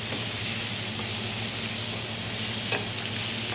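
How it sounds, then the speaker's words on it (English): Large diced chicken thighs sizzling in a hot real paella pan, a dense continuous hiss and crackle of frying, close and steady with an occasional faint scrape of stirring and no talking. "And then immediately after that you can go in with the chicken."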